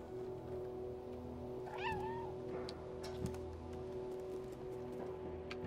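A cat meows inside the video game Stray, one short rising-and-falling call over a steady game hum and ambient background.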